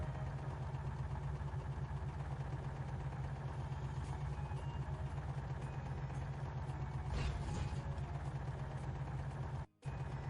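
A tractor engine in the 2006 PC video game Three from Prostokvashino idles with a steady, continuous drone, holding the same level throughout with a brief dropout near the end.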